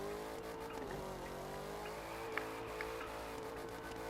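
A car drifting in a racing video game, with a continuous tonal engine drone and a long wavering tire squeal held at a low, steady volume throughout.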